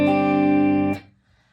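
Acoustic guitar tuned to DADGAD with a capo on the fifth fret, one full strummed chord ringing out loud and clear for about a second before being cut short, alone with no voices.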